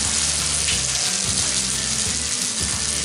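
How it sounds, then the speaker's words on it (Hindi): Semolina cutlets sizzle in hot oil over a medium gas flame, a loud, constant crackling hiss close by with low bubbling underneath and no talk. "अभी गैस को बिल्कुल मीडियम कर देंगे और 1 बाय 1 जो है हम फ्राई करना शुरू कर देंगे।"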